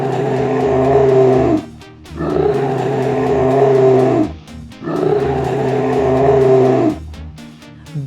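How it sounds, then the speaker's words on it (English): A bear roars in three long, loud, growling bursts, each a couple of seconds long and separated by short pauses, close and alone. "This is a bear."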